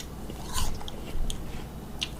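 Crisp bites into a spiral-sliced apple, a few short crunchy snaps followed by close, moist chewing, heard alone and up close.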